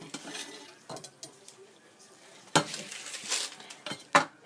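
Bibingka topped with cheese is sliced on a plate, a scattering of knife scrapes and clinks against the dish, quiet and close, with louder taps near the end.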